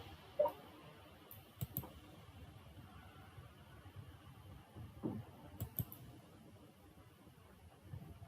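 A computer mouse clicking a few times on a Windows 10 PC, faint, sparse clicks spaced seconds apart over a quiet room hum.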